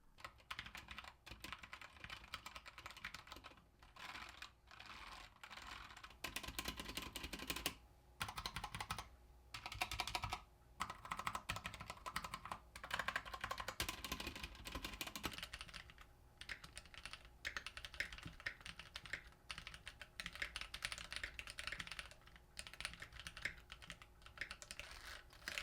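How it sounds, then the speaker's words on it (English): Brown-switch mechanical keyboards, a Keychron Q1 with PBT keycaps and a K2 with ABS keycaps, are typed on in fast continuous clacking bursts with brief pauses, close and alone, with no voices. "The ABS keycaps on the K2 provide a softer sound, whereas the PBT ones on the Q1 make it crispier."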